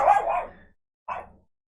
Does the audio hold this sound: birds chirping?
no